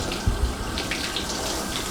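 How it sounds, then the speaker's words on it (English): Running water rinses hair during a salon shampoo, a steady close splashing hiss with soft gurgles as the stream moves through the hair. "I'm feeling that water the entire time to make sure that it doesn't get too hot."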